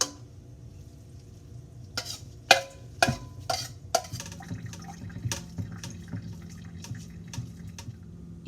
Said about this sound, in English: I can still hear liquid running out